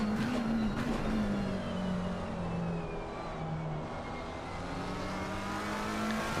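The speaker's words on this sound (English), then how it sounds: "Just look at the way this GT3 can just fly through these fast turns with all the downforce they've got." A Porsche GT3 race car in a racing video game drives the fast Nordschleife turns, its engine a steady, loud drone that slowly shifts in pitch with no break.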